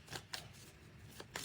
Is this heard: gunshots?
no